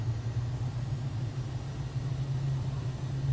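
The jet engines of a Citation Longitude in a flight simulator spool up, a steady low droning hum holding an even tone throughout, moderately loud with a faint broadband hiss above it.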